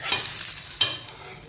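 A dosa cooking on a hot pan and being lifted off, a gentle sizzle broken by two quick scraping strokes of the spatula, close and moderately loud.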